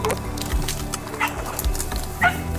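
A hunting dog on a New York bowhunting trip whines and yips in short, high bursts over a busy outdoor background, fairly close, with a few thumps between cries.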